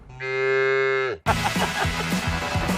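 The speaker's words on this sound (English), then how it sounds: "Babe, that's a cow." A single loud, drawn-out cow moo rises alone and holds for about a second before cutting off abruptly, followed by a busy burst of unrelated noise.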